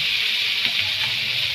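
Cumin powder sizzling and being sautéed in hot oil in a home kitchen, a steady close hiss with faint stirring scrapes throughout, no voices.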